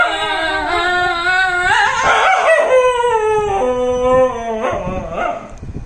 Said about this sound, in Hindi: अब जरा आपको दिखाते हैं गाना गाने वाला डॉगी।